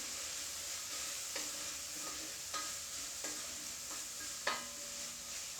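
Chicken pot pie stew ingredients sizzle steadily in a pot as they cook down, a constant frying hiss broken by a few scraping stirs, close and moderately loud.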